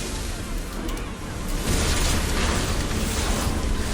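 Ship cannon volley fired in the naval combat of Assassin's Creed Odyssey, a dense sustained burst of booming blasts that swells loud after a quieter opening, with speech faintly present.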